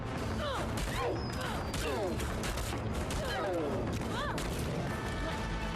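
Rapid gunshots ring out in a video game trailer, dense bursts of firing mixed with whooshes and crashes under a layer of voices and music.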